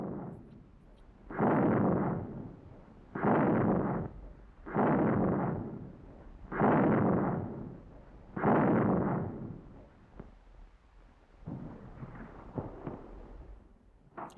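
Repeated heavy artillery fire and gunfire during an infantry attack, five loud booming blasts at steady intervals, each rumbling for about a second, followed by lighter, more scattered firing toward the end.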